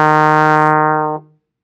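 A single trombone E flat, played in third slide position, holds steady and full for about a second, then cuts off cleanly. It is loud and close, with no talking.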